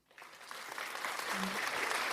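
A round of applause on a teachers' radio lunchtime show swells from near silence into steady, dense clapping that holds loud and continuous to the end, with no talk over it.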